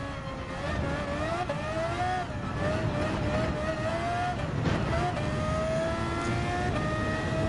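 A 1990s-style F1 race car in Gran Turismo 7 revs hard and steadily, its high engine whine rising and dipping through gear changes at a continuous, loud level.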